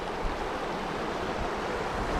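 Rushing stream water crossing a mountain trail near Tvergastein, a steady broadband wash of fast-flowing water that stays loud and continuous with no voices over it.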